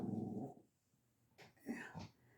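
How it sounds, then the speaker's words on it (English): A dog up at a window gives a low, close rumbling growl, then a few soft breathy huffs and whines after a short pause, all faint. "She's a guard dog up in that window."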